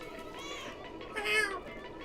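Cat meowing in the Stray video game trailer, set in a decaying cyber city: two drawn-out mews, the second louder and rising, over a steady music bed.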